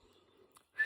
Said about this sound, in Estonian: Ma natuke vilistan.